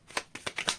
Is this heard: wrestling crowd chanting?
no